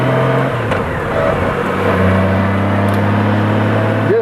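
A Goldwing motorcycle cruising at leisure along the Blue Ridge Parkway, with a steady, loud engine drone and constant wind rush throughout, the engine note shifting slightly in pitch as it rides.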